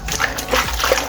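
Pantry food rinsed under running water for a salad and fruit meal, with repeated close splashing and trickling across a brief moment.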